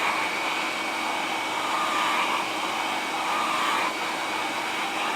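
GEREFET 2-in-1 pet grooming vacuum and dryer running on low speed over a cat, a constant close airy blowing hiss with suction that holds steady throughout.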